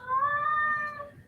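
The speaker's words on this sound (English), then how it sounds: "this is my cat meowing" A pet cat lets out one drawn-out, plaintive meow, close and clear against a quiet indoor background.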